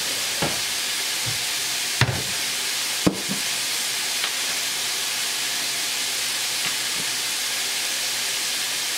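Chicken hibachi frying on a hot griddle, a steady close sizzle with a few sharp clicks and taps of a spatula as Worcestershire and teriyaki sauces are added.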